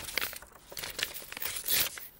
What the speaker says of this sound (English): I can just cut that right down the middle